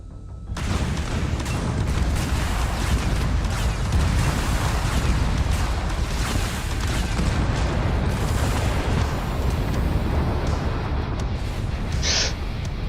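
Heavy weapons fire and explosions in a modded Starfield space combat game, a dense, loud barrage of booms and gunfire that continues without a break, with no talk over it.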